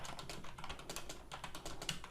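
A computer keyboard is tapped repeatedly while working in 3ds Max, a quick irregular run of soft close-up key clicks with no voices.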